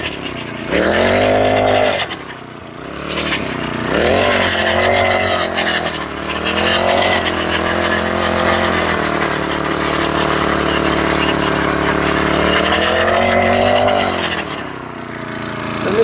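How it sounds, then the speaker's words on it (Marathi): A 4-stroke engine drives a cultivator weeding machine, droning steadily and loudly at close range for the whole stretch, with small rises and dips in pitch as the throttle shifts. "तर हे आहे 4 स्ट्रोक की कमाल. तर अशा पद्धतीनं हे कोळपणी यंत्र आहे"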